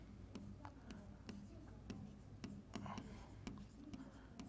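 Pen scratching and tapping notes during a Class 12 physics lecture on atoms and nuclei, a run of short, faint, regular ticks and scrapes, close and quiet.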